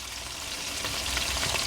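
Smash burger patties fry in beef tallow in a pan, giving off a steady close sizzle and crackle with a few spattering pops and no voices.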